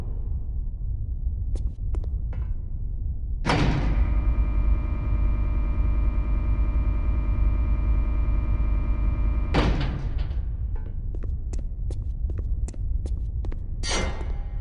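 A switch-activated elevator in the game Chaser rumbles into motion with a sharp mechanical clank, holds a steady droning hum for several seconds, then stops with another clank followed by scattered metallic knocks.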